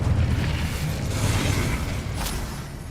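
An Incendio fire spell in Hogwarts Legacy blasts out as a loud, sustained whooshing roar with a booming low rumble and a brief crackling flare near the end, with no voice over it.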